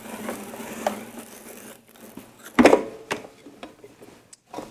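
A Sizzix die-cutting machine is worked by hand as quilt fabric on a die is pushed through, with scattered mechanical clicks and knocks and one louder clunk, close by and without talk.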